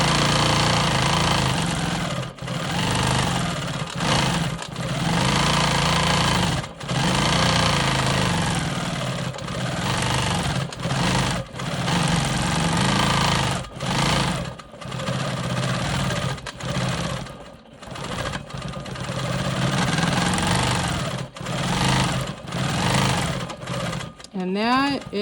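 A Quilt Maker Pro 20 sewing machine stitches free-motion quilting swirls in long steady runs of rapid needle hum, broken by brief stops and restarts, with a person talking over it.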